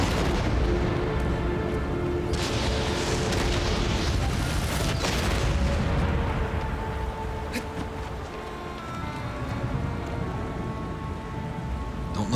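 Rumbling booms from a colossus firing shots in Shadow of the Colossus Remake, set against a dense, steady wash of roaring noise like heavy rain, with no clear separate blasts standing out.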